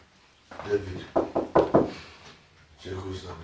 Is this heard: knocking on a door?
yes